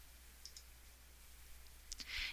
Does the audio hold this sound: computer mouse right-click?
yes